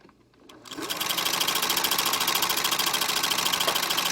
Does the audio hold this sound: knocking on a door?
no